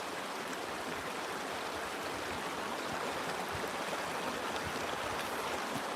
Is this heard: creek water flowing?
yes